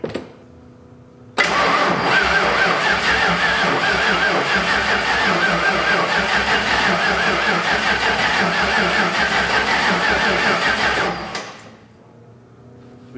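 A 1989 Ford F150 with newly upgraded fuel injection cranks and fires up, its engine running loud and close for about ten seconds with a steady rumble before cutting off.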